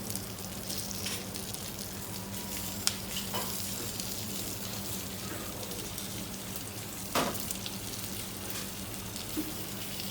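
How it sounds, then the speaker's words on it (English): Mirepoix of onions, celery, carrots and garlic roasting in lamb fat in a pan, giving a steady close sizzle throughout with a couple of sharp clicks and no voices. "We're gonna slightly roast this garnish in the fat of the lamb"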